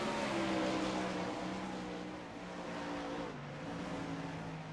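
Sprint cars in a 410 race at Williams Grove roar around the track, a continuous loud engine drone with layered tones from several cars shifting slightly in pitch as they pass.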